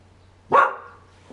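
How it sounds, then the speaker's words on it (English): A pet dog barks once indoors, a single sharp bark with a short tail, over a faint steady hum. "My dog is freaking out there."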